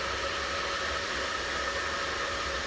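A hair dryer roars with a constant, loud, close airflow hiss while a round brush works through hair during a salon blow-dry.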